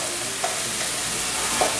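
Chicken for pad ka prao sizzles loudly in a hot pan as its moisture cooks off, a dense, even hiss with a couple of faint stirring scrapes and no talking.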